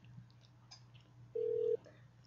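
A telephone on a radio show dials out to call a caller back, sounding one short, steady, clear touch-tone beep over a faint low hum.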